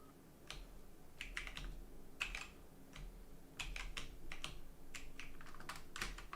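Computer keyboard typing heard close and fairly quiet, with quick clusters of key clicks separated by short pauses over a low background hum.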